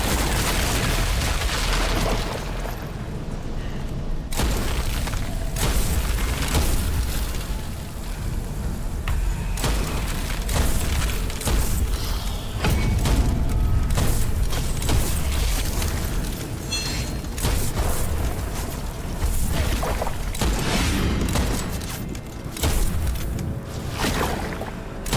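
Sniper rifle gunfire in the dark fantasy shooter Witchfire, heavy booming shots and blasts repeating throughout a dense, loud combat mix with rumbling impacts and effects layered continuously.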